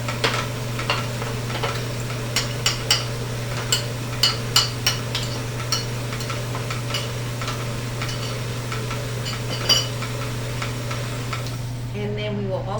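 Pastry filling is gently mixed with lightly beaten eggs in a bowl, giving irregular soft clicks and taps over a steady low hum in a kitchen.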